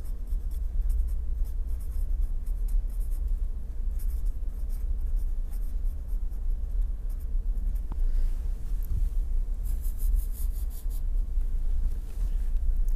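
Chalk or pen scratches out equations during a lecture on plate dynamics, a continuous run of quick close strokes and taps over a low room hum, with no talk.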